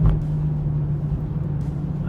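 BMW M2 CS with a 6-speed manual held at full throttle near redline on a winding mountain road: a steady, loud engine drone with a strong sustained tone, continuous and close throughout.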